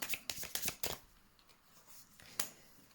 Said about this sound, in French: on va mettre des cartes à côté pour voir